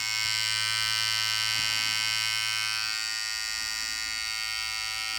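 GLAKER 3-in-1 professional electric hair clippers run steadily with a loud, constant motor buzz that holds without a break for several seconds, close up, with no talking over it.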